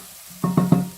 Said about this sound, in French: On va faire bien revenir jusqu'à avoir une belle couleur